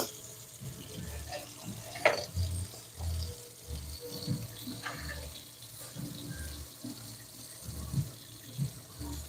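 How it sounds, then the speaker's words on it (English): Hot water runs from a kitchen tap to warm Velveeta cheese, a steady close splashing flow with a few faint clinks and knocks scattered through it. "Warm it up here with some hot water."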